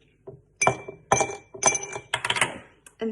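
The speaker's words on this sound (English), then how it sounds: "you're going to take your glass, and then you're going to put some ice cubes in" Ice cubes are dropped into a glass for frothy iced coffee. Each lands with a bright clink, about five in all with short pauses between them, close and loud, with no talking.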